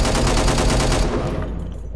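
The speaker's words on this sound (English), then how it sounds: "light machine guns." A light machine gun in the video game Angels Fall First fires a loud, rapid, evenly spaced burst for about a second. The shots then cut off and leave a fading tail.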